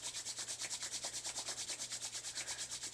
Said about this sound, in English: rub the palms one more time